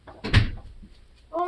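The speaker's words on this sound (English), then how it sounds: "My dad just closed the door on his ass." A door shut with a single solid thud followed by a faint rattle, then a short tonal sound at the end, with a voice murmuring nearby.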